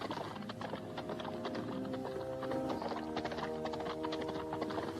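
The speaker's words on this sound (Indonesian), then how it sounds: "Oh, seekor kuda berlari dengan cepat sekali." A horse gallops fast, its rapid hoofbeats drumming steadily under a sustained musical backdrop, moderately loud and continuous.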